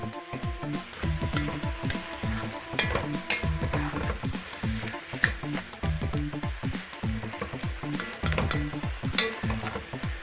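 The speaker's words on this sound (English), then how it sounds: "We're gonna cook this beef until it's just light brown." Beef for goulash fries and browns in a pan, a steady close sizzle broken by rhythmic scraping and stirring strokes of a utensil against the pan, continuous and fairly loud with no voices.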